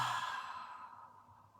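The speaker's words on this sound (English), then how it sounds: "Take a deep breath in and exhale out." A single deep exhale during a calm guided meditation, a soft close breathy sigh that fades out gradually with no talking.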